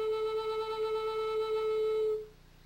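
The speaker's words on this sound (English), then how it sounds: "your first note on the A minor flute is an A." A single sustained flute tone, the low A on a Native American flute in A minor played with all holes covered, rings steady and clear for about two seconds, then stops, leaving faint room quiet.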